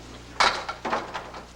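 Bowling ball hitting flush on the head pin in a bowling alley, a sharp crash of pins followed by a second burst of clattering and scattered rattles as pins fall, fairly loud and close.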